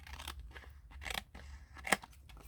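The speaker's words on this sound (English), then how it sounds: "I need to cut inside here as well" Scissors snipping through a paper tag while making a Peter Rabbit layered junk journal: several soft, close cuts, with one sharper snip near the end, against a quiet room background.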